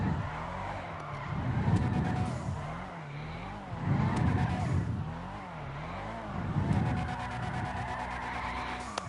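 Tires squeal repeatedly as a tuned car drifts through city streets in GTA Online, engine revving in rising and falling waves with several long skid bursts under steady game noise.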